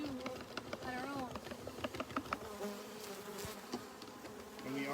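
A dense swarm of bees hums steadily at an open beehive in Fairbanks, loud and close, with a person talking intermittently over the buzz.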